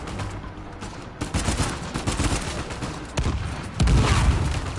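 Bursts of gunfire from a sniper and other weapons during a firefight in the video game Uncharted 4, loud and dense, with several sharp cracks over a continuous rattle.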